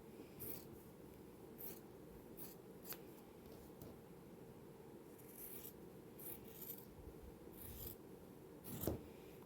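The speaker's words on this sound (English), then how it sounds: "let's cut our half square triangles apart" Half-square quilting triangles are cut apart against a ruler: a faint, steady fabric scrape with soft scratchy strokes and a few sharp ticks, ending in a louder snip near the close.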